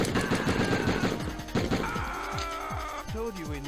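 Rapid bursts of video game gunfire from Die Hard Trilogy crackle in quick succession, joined by electronic tones and effects, with voices talking over the action.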